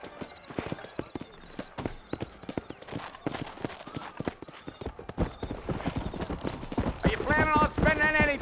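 Horse hooves clip-clopping along a trail in Red Dead Redemption, a steady near rhythm of hoof strikes with a horse whinny toward the end and voices speaking over it.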